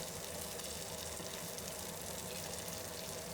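Jalapeño peppers pan frying Chinese tigerskin style: a steady, dense sizzle and crackle of oil, close and continuous with no pauses.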